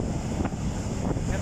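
Rough sea at Bordighera, a loud, continuous roar of heavy waves mixed with strong wind buffeting the microphone, with no voices.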